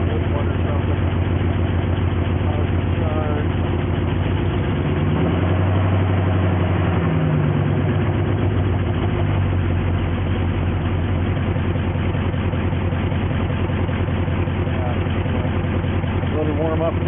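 A 1973 Jeep Wagoneer, partly restored, idles while warming up, a steady low rumbling engine note held close and loud throughout with only slight shifts in tone.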